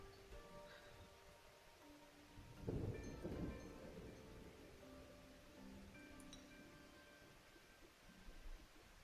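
In the video game Diluvian Winds Prologue, a faint thunderstorm plays with a steady wash of rain. A single low thunder rumble swells partway through, while soft tonal game sounds linger in the background.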